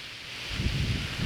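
Strong wind on a mountaintop near three wind turbines at Wat Phu Ram, Ban Den Savan, roaring and buffeting close against the microphone, swelling into steady low gusts after a brief quieter moment.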